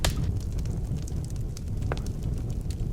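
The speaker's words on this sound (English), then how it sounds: "I always love to put on a nice warming fire after a hard day of work" A warming fire burns in the Snow Scout video game, a steady low roaring crackle with scattered soft pops and snaps, moderately loud and alone.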